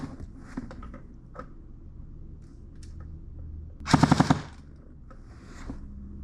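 An SSE18 Gen 2 airsoft gun fires one short full-auto burst of BBs, a rapid loud rattle of about half a second. Quiet handling noises and faint clicks come before and after it.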